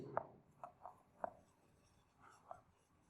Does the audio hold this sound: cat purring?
no